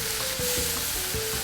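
Marinated meat and vegetables hit a hot pan with a steady, loud sizzle and crackle, with a few soft stirring scrapes and thumps under the continuous frying hiss; no one speaks.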